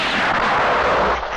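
A loud, sharp gunshot blast at shooting practice, heard close up, with a broad rumbling boom that fills the whole moment before it begins to fade.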